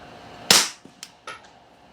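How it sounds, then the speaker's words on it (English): A pistol fitted with a Banish 9 suppressor fires a single subsonic round, a sharp close muffled crack followed by a few faint clinks and mechanical clicks. "subsonic ammo in a suppressed pistol"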